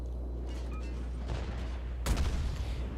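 Russian warship guns fire in a naval combat video game: a steady low rumble gives way to one sudden, loud blast near the end, trailing into a rough, booming decay.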